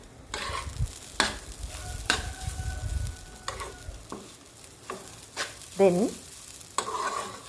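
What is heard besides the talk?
stirring beetroot thoran frying in a pan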